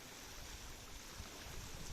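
Water waves flowing with bubbles, a steady, faint, rushing wash of moving water with no other sounds.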